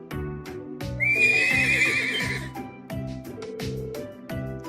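A horse whinnies loudly in the Trails of Cold Steel video game, a high shrill neigh over rhythmic clip-clop hooves and a looping game music beat.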